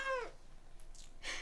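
A pet cat named Nuru gives a short rising meow, followed by faint rustling and a brief breathy sound, close by in a quiet room.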